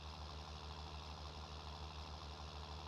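A tractor engine in Farming Simulator 19 labours steadily while pulling an Andersen implement, giving a constant low droning rumble with strong bass and a steady hiss, loud and close, with no talking.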